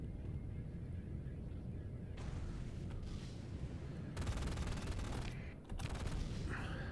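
Missiles and weapons fire in the space combat game Starsector crackle in faint, rapid bursts of gunfire with a few sharper volleys layered over a constant low rumble.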